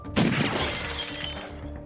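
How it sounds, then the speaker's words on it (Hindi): Glass showcase shattering after a gunshot: a sharp, loud crash with bright splintering debris that rings out and trails into a lingering scatter of fragments over about two seconds. "वो अपने सामने एक शीशे के शोकेस पर गोली मारता है और वो शीशा चकनाचूर होकर जमीन पर गिर जाता है"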